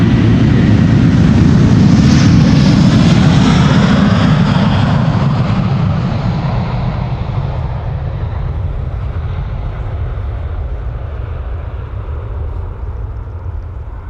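A Turkish Airlines Airbus A330 jet departs Amsterdam Schiphol with a loud, broadband engine roar that peaks early. It then fades slowly and steadily as the aircraft climbs away, with no talk over it.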